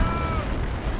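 Dense, loud artillery barrage in Company of Heroes, the WWII real-time strategy game, with shells booming and crackling over one another in a steady wall of battle noise.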